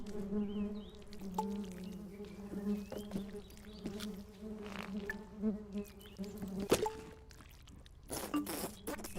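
A swarm of bees buzzing from a beehive in the Genital Jousting video game, a faint, dense hum with tones that rise and fall, scattered clicks and a brief sharp knock near the middle.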